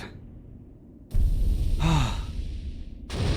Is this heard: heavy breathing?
yes